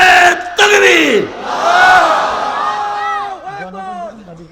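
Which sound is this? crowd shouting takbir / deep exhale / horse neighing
crowd shouting takbir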